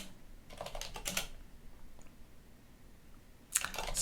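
Someone types a command on a computer keyboard: a quick cluster of crisp keystrokes, a quiet pause, then another short burst of key clicks at the end.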